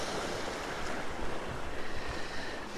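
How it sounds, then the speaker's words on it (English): Small ocean waves breaking against rocks, a soft continuous wash with gentle swells and some wind rumble on the microphone, fairly quiet and without voices. "The waves here just aren't big enough."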